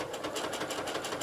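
Domestic sewing machine stitching appliqué lettering onto a fabric table runner, a steady close, fast-running mechanical whir with rapid needle pulses throughout, alone without voices.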